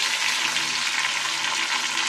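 Browned onions frying loudly in a kadhai as tomatoes go in, a bright, dense, continuous sizzle close up with no voices.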